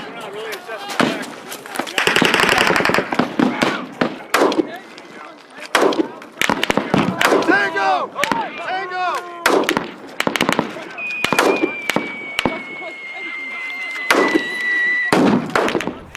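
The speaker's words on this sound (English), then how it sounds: "they're going to be taking indirect fire with these arty sims" Artillery simulator pyrotechnics going off during Marine Corps training: repeated sharp loud bangs and cracks at irregular intervals, some in rapid clusters, mixed with shouting voices and a whistling tone.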